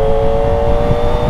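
Kawasaki ZX25R motorcycle engine cruising smoothly at low speed, a steady, even high-pitched hum close by with road and wind rumble beneath.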